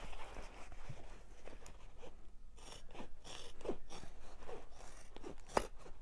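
Scissors snipping through the fabric lining of a tote bag, soft close-up crunching cuts in an uneven rhythm, faint and quiet.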